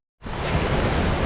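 Waves wash in on the Black Sea coast, rising suddenly out of silence into a broad, steady hiss of surf with some rumbling, loud and close, with no voices.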